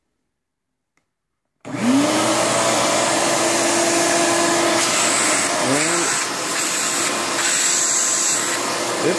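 A Shop-Vac wet/dry portable vacuum switches on after near silence and runs with a loud steady whine and roar, the pitch dipping briefly as the load changes, while a voice talks faintly beneath it.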